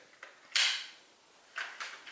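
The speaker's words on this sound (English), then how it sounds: "I do like the noises that the doors make as they open" Doors on a Chuggington die-cast toy playset swinging open, giving a few short scraping creaks and clicks, one louder burst followed by two quicker ones, close and fairly quiet with no speech.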